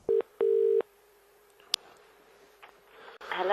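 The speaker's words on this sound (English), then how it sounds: "this clip that I'm going to show you is a telephone call of me talking to the production company" Touch-tone telephone dialing from a recorded phone call: two short, clear tones, the second longer, then faint line hiss and soft rustling as the call connects.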